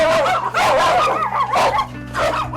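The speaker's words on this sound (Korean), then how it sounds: "사납게 짖으며 몰려드는데요" Several dogs behind a metal fence around a house bark fiercely and yip at a stranger, loud and close in overlapping bursts, with whimpering mixed in.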